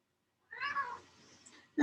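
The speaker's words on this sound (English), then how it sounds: "Oh, so there's a cat in the way" A house cat gives one short, soft meow near a yoga mat in a quiet room, then a brief louder sound cuts in at the end.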